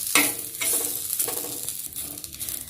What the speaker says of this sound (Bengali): তাওয়াটাতে ভেজে দিচ্ছি